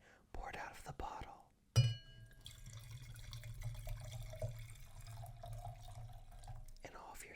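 Red blend wine pours from a bottle in a long, quiet, steady gurgling stream following a brief clink, with soft whispering just before it starts.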